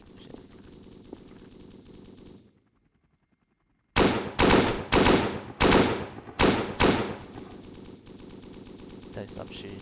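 Bursts of automatic machine-gun fire in a Blackhawk Rescue Mission video game firefight, loud and close, arriving in several rapid volleys after a brief silence, over steady in-game background noise.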